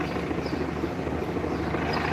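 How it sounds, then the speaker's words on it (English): A helicopter hovers overhead, its rotor making a steady, dense throbbing rumble that stays loud and continuous from start to finish, with no voices. "Move, helicopter, move."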